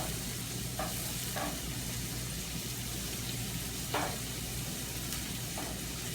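Pancetta and onions fry in a pan for Amatriciana sauce, a steady close sizzle with occasional soft stirring scrapes throughout and no voices.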